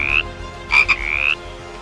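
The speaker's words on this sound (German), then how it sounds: "Der afrikanische Ochsenfrosch," African bullfrog (Pyxicephalus aspersus) gives a few loud, close croaks: a short call, a pause, then a quick double call running into a longer drawn-out croak, alone without talk.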